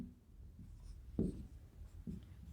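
Writing on a board in a physics lecture, a couple of quiet scratching strokes and taps, close, over a low rumbling room background.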